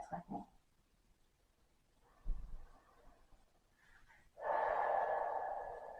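Slow, deep belly breaths taken during a yoga session for the lower back and calves, with a short puff, a quiet pause, then a long, loud, steady airy exhale close to the mic.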